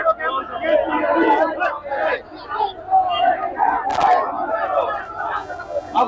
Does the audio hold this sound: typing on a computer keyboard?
no